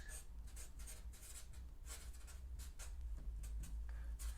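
Handwriting an equation with a pen or marker on paper or a board: faint scratchy strokes in short bursts and steady rhythm, quiet and close.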